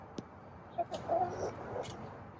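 Chickens in a pen beside a backyard chicken run, with soft, sparse clucks and a few short calls over a low outdoor background, no talking.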